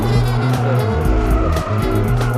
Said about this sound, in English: You step on the gas and turn the car sideways.